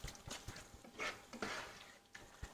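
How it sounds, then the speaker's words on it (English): A spoon works cheese, oil and garlic into a tomato sausage mixture in a pan, giving soft, quiet scraping and wet stirring strokes with faint sizzling in between. "we're going to put it into our tomato sausage mixture. We're going to mix that around."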